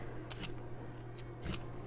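A peeler scrapes a fresh carrot in a few short, crisp strokes spaced apart, soft and close with a low steady hum underneath.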